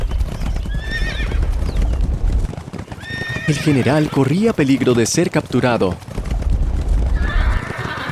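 A horse neighs and its hooves clip-clop during a mounted ride in which a sniper shoots the general's horse, bringing it down. The whinnies and steady hoofbeats are close and loud, mixed under narration and a man's urgent speech.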